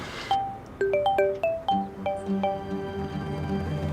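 A mobile phone plays a melodic ringtone of bright, repeated chiming notes, clear and near, ringing on for several seconds with no talk over it.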